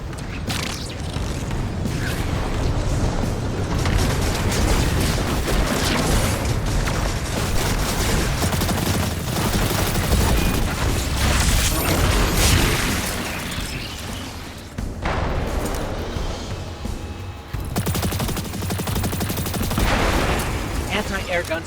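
Anti-air guns fire in Destiny 2: Lightfall amid a loud, continuous battle mix of booming shots and explosions, with game characters speaking over the din.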